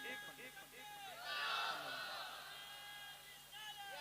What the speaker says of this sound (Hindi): एक नौजवान जरा खड़े होकर इस महफिल में नारे तकबीर और रिसालत बुलंद करे